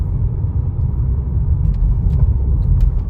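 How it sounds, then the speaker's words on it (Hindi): A Škoda car engine revs under steady acceleration, a loud continuous low rumble with a gradually rising drone, close and alone without speech. "देखो आरपीएम पहले से ज़्यादा उठ रही है, इतनी आरपीएम पहले नहीं आती थी।"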